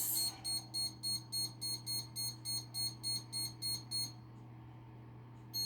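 A kitchen timer gives about a dozen rapid, evenly spaced high beeps, then falls quiet, over a low steady hum in the room.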